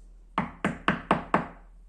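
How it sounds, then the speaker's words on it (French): Five sharp knocks on a wooden door, evenly spaced and close, each with a short hollow ring, against quiet. "Il frappa à la porte."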